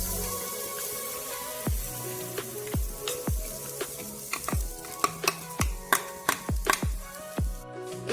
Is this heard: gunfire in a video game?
no